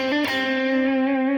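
Short electric guitar fill in C major pentatonic, a single sustained distorted note with rich harmonics ringing steadily for about a second, loud and alone.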